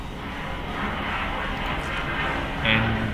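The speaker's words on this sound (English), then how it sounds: "There was like a plane flying in the background." A fixed-wing airplane drones steadily in the background, a broad low rumble that stays even throughout and swells slightly near the end.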